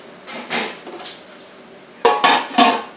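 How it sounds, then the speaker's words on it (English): Canning jar lids on freshly processed jars of peach pepper relish pop down as they seal, giving three sharp, close metallic clicks in quick succession after a stretch of faint rustling. "the lids have popped down and it's sealed on"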